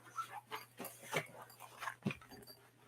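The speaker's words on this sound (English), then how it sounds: "I can hear my dog barking." A dog barks and yips inside a house, a string of short, fairly faint barks and whimpers spaced irregularly, heard from another room over a low steady hum.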